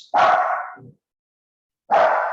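A pet dog barks twice indoors, two loud close barks separated by a pause of more than a second.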